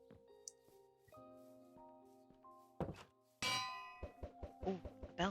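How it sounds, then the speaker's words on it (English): A bell being struck inside the video game Minecraft, a string of bright metallic clangs and dings with sustained ringing tones, some hits sharp and loud, repeated in quick succession near the end. "Ooh, a bell."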